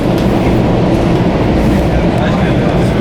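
A commuter train rolls down into the East River Tunnel in New York, a steady loud low rumble of wheels and car noise filling the whole stretch without letup.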